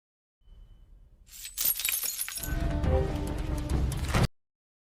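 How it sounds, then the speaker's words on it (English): A glass is smashed on purpose and its shards flung onto a hard floor: a sharp crash, then a sustained clattering scatter of broken pieces that cuts off abruptly. "one of the rival gang members deliberately broke a glass and threw the shards on the floor"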